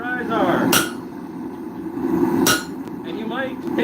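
A hammer strikes iron at a craft forge, two sharp metallic clangs spaced a couple of seconds apart over a steady low rumble of background noise.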